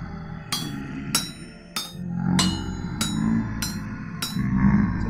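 Metal hammer blows striking a chisel being forged in a straight line, seven sharp ringing impacts at a steady, roughly even pace, close and loud over a low background hum.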